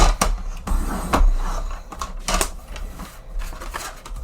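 A piece of cardstock cut to 4 by 5.5 inches with a paper trimmer, a series of close, loud scraping and clacking strokes with a low mechanical rumble underneath.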